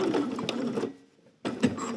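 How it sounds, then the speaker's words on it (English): Sewing machine stitching a pocket seam with about a half-inch allowance on a Simplicity 9780 garment, running in two steady bursts with a brief pause between, close and moderately loud. "I'm just going to stitch around like 1/2 inch"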